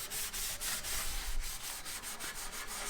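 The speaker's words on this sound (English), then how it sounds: "rub it in, get rid of all that surface rust." Someone rubs a treatment into rusted metal with a steady, gritty scrubbing rhythm of repeated strokes, close and moderately loud, with no talk.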